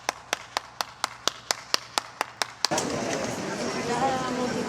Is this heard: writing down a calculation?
no